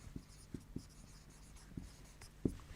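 Pen or chalk strokes writing during a science lesson on soil, heard as a few soft, separate taps and scratches spaced irregularly in a quiet room with no talking.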